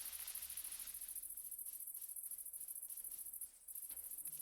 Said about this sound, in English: The cricket noises are really loud?